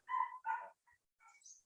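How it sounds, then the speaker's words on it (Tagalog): A pet dog barks in a short burst of two loud yaps followed by softer whimpering yips, fairly close and with no talking over it. "Ang ingay ng aso ko"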